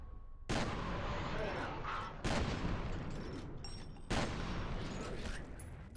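Three loud, booming shotgun blasts in the shooter F.E.A.R. land about two seconds apart, each followed by a long, noisy decay of game ambience.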